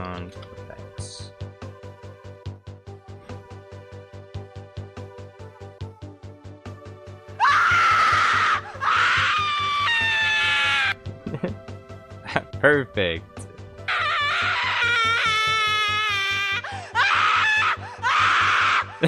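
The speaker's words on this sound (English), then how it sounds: "I need women screaming, not one single woman. Witches screaming." Several women shriek as witches in a loud, layered screaming effect with piercing, wavering cries in bursts. A pulsing rhythmic drone comes before it, and a voice speaks briefly.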